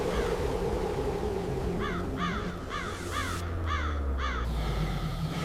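Ravens in Yellowstone give a run of harsh, repeated croaking calls, about six in quick succession, moderately distant over a steady outdoor rumble.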